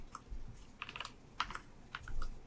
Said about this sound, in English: Let me just type this out.